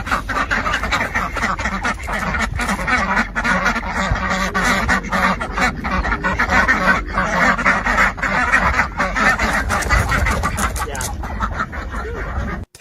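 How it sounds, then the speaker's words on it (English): Ducks quack steadily and fairly loud across the whole stretch, several birds calling at once in a dense, continuous flock chatter with a faint voice now and then underneath. "Please enjoy these ducks changing their minds."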